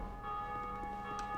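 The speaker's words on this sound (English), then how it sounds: "Ringeth the bell." A bell tolls in Dark Souls 2, sounding as a soft, distant ring with a lingering tone over a low, steady game ambience.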